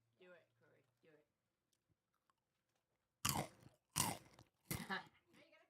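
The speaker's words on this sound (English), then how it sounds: "Now you gotta crunch slowly." Snacks being crunched slowly near a microphone: a soft voice speaks briefly, then after a pause come three loud, crisp bites in a slow, even rhythm.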